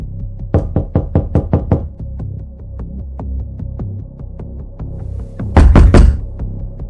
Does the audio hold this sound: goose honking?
no